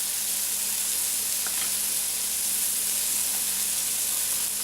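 Mushrooms sauté with Dijon mustard, chopped parsley and crumbled cooked bacon in a hot pan, giving off a loud, steady, close sizzle that holds without a break.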